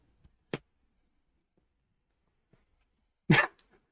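A frightened dog, scared by fireworks, gives two short sounds, a quick sharp one early and a louder bark-like burst near the end, close by with near silence between them.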